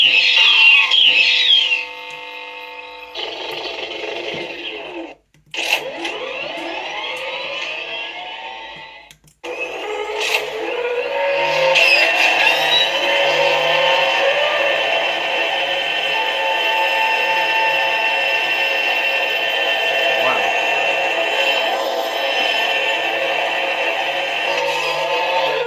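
Saberbay Dark Matter staff lightsaber with a Proffie v3.9 board and neopixel blade plays through its small speaker, loud and close, with a crackling ignition, sweeping swing tones, brief drops to silence, then a steady sustained hum.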